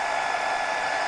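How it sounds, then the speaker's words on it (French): A hair dryer runs steadily off a Delta 3 portable power station, a constant close airy whoosh of fan and rushing air with no voices. "je vais mettre sèche-cheveux"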